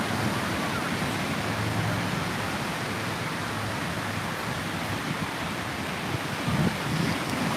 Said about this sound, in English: Got a little wave down here today